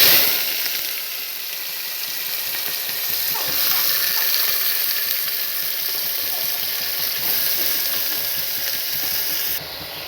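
Chopped onions and green chillies fry in hot oil, giving a steady, close sizzling hiss that runs unbroken throughout.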